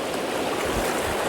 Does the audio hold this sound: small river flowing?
yes